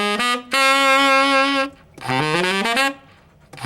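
Tenor saxophone sounding a sustained E flat fingered with the front key, two held tones with a rich stack of harmonics separated by a short gap, close and clear with no talking.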